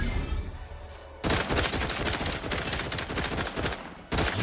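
Rapid, dense gunfire from a firefight in The Outer Worlds 2, a loud sustained burst of automatic shots that breaks off briefly near the end before resuming.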